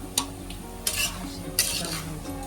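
Stirring a Marathi-style tempering with curry leaves in a home kitchen pan, with three scraping spoon-against-pan strokes spaced about every 0.7 seconds over a soft background sizzle, close and fairly clear with no talking.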